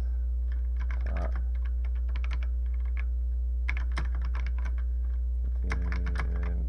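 Typing on a computer keyboard while entering Atari BASIC: bursts of quick, light key clicks with pauses between them, close by, over a constant low electrical hum.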